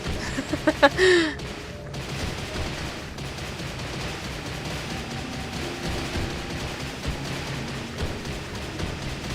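Rocks smashed apart by Graveler in Pokémon Pokopia give a quick burst of sharp cracking impacts near the start, then a soft, steady ambient bed of ocean music and game sounds for the rest.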